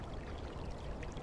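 Pumped rainwater pours steadily in a Black Mirror III game scene, a close, continuous splashing stream with soft trickling detail, heard alone.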